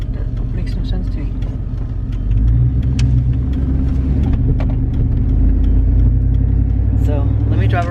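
A car being driven around a school, with a steady low engine rumble and road noise inside the vehicle that grows heavier partway through. Soft knocks and rustles sit on top, and a brief voice sound comes near the end.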